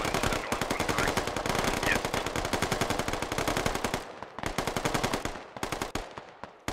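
Sustained automatic gunfire rattles in rapid bursts during an Arma online battle, loud and fast through most of the stretch, then thinning into scattered shots near the end.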